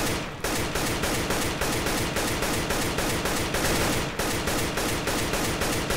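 Rapid gunfire in CS:GO, a steady run of evenly spaced shots about ten per second, loud and close, with a short break before the firing resumes.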